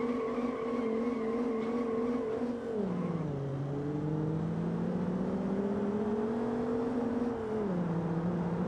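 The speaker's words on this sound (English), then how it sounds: "Let's fix the car and let's crash into the wall." A simulated car's engine drones steadily in a racing simulator, its pitch dropping and rising with gear and speed changes, loud and continuous, with no voices.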